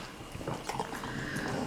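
A pet dog whimpers eagerly while waiting for treats, a thin nasal whine with faint mouth noises, close by and continuous over about two seconds.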